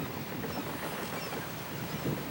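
Wind rushing into a freshly repaired, patched sail aboard a tall ship at sea, a steady, broad whoosh of air and open-water noise, moderately quiet and unbroken.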